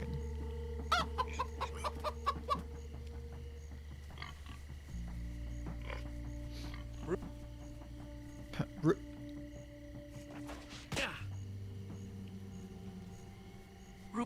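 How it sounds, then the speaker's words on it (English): In Minecraft: Story Mode, a chicken clucks in short, sporadic bursts over a steady low ambient hum and game sounds, with people talking throughout. "Chicken."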